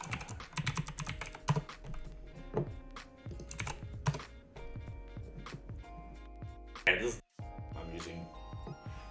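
Steady clacking keystrokes on a computer keyboard, rapid and uneven in rhythm, close and moderately loud, with a person talking over the typing and a brief pause near the end.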